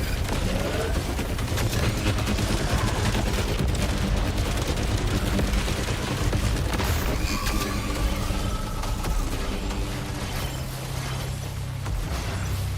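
Rapid smart rifle gunfire in a video game boss fight, dense repeated shots and mechanical clatter over a loud, constant rumbling game soundtrack.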